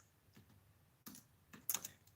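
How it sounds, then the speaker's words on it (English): Faint, sparse keypresses on a computer keyboard typed one-handed, a few scattered soft clicks with uneven gaps during a Pokémon livestream. "typing with one hand is so much slower"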